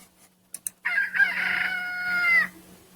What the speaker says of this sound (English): we've got here a chicken that's telling us he wishes he has sweat glands